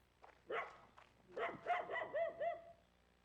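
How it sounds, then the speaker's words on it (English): Dog in the video game Mount & Blade: Warband barks several times at night, moderately close, with a short yelp, then a run of quick barks. "that dog sound was real good"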